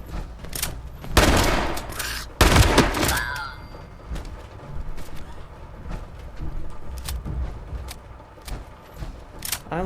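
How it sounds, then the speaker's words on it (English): Shotgun blasts ring out in Fallout 76, two loud booming shots a second or so apart, followed by quieter scattered clatter and thuds. "This is a shotgun."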